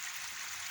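Water spills steadily from a DIY pond waterfall tray set in a corner, a constant close, even rush with no breaks and no voices.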